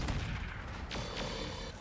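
Heavy autocannon fire rumbles through a RogueTech BattleTech mech battle, a couple of deep booming shots with whooshing projectile sweeps over a constant low battlefield drone.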